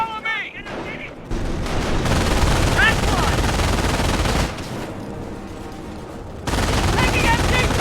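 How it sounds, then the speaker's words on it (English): Machine gun fire in the Company of Heroes war game, sustained rattling bursts with explosions and shouted voices over dense combat noise, briefly dropping then surging back. "Taking MG fire!"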